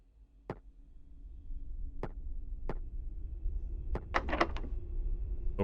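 A locked door being tried in a horror video game gives several sharp rattling clicks, single knocks and then a quick cluster of latch rattles, set against a low ambient hum.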